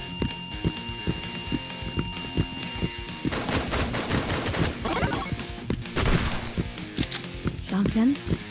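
Repeated bursts of gunfire from a video game shotgun ring out amid other in-game weapon noise and music, with a voice talking over the action throughout.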